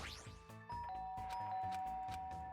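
A doorbell ding-dong chimes in the video game Danganronpa 2, a clear two-note electronic chime ringing over looping game music with a sustained high tone.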